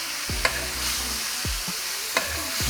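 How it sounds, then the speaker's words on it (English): Steak basting in melted butter and garlic in a hot pan for a steak sandwich: a steady sizzle runs underneath while a spoon scrapes and clinks against the pan in a few separate strokes, fairly close and with no talk. "Add some butter and add our garlic on top. And then we're gonna baste that a little bit."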